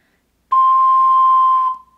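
A single long C note on an ocarina, a pure steady whistle-like tone held for about a second and a quarter before a quick decay, played alone in a quiet room.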